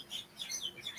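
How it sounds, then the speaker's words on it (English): Small birds chirp and tweet outdoors in quick, high, scattered calls, faint and somewhat distant, over a quiet background. "sorry about the background noise, guys. I can't. It's just these birds."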